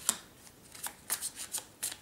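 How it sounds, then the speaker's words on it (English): Tarot cards are shuffled close by, a quiet series of brisk papery riffles and flicks in uneven bursts. "Not sure if I'm shuffling on camera or not."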